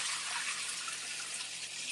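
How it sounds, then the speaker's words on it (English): Water gushes steadily as it is poured off a batch of soaked wild bird seed grain, a continuous close hiss and splash with no talk. "Once I get this last little bit of water poured off, I'll show you how nice it comes out."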